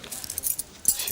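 Keys jangle briefly in two short metallic clusters, close by and moderately quiet, with no talking over them.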